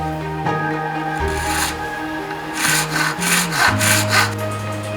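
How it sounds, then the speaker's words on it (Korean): A small groove joining an eyeglass frame and temple is cut by hand for handmade glasses, making close, rhythmic rasping saw strokes that speed up toward the end. "안경테와 다리를 잇는 작은 홈 하나를 만드는 일도 그의 손을 거쳐야 합니다"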